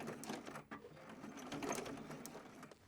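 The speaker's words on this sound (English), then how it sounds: "I'm near the end and I want to do another backstitch" Sewing machine backstitching cotton fabric for a zipper bag, a quiet steady mechanical whir with fine rapid needle ticking running throughout, no voices.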